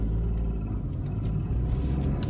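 A small Toyota Aygo hums along steadily from inside the cabin, a low engine and road rumble at an even, moderate level.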